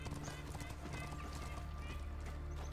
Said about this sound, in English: We're going to follow this horse.